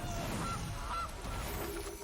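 A goose honk from a digital Magic: The Gathering card game, heard as a couple of short, nasal calls over a steady background bed, fairly loud, with no talking.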